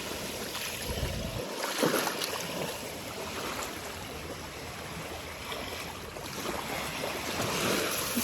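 Ocean surf rolls steadily onto a sandy shell beach near a lighthouse, a continuous broad wash of breaking waves with a brief louder surge near the start, heard close by with no voices.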